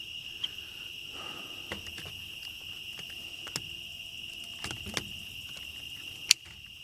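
Steady, dense chirping of insects in a video game forest at night, a continuous high drone broken by a few faint clicks and ticks, with no talking.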